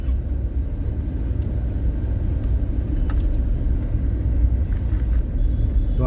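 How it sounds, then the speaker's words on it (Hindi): Heavy road traffic on GS Road in Guwahati, a dense continuous rumble of passing vehicles heard close and loud, with occasional higher engine and brake tones rising above the steady roar. "देख पा रहे हैं, बहुत ज़्यादा ट्रैफिक हो रहा है"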